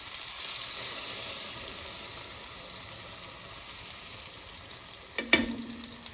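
Cube steaks brown in a frying pan with a steady close sizzle and spatter, and a brief sharp clink near the end.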